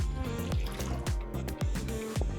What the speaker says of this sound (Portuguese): primeiro passo é colocar a água morna em um bowl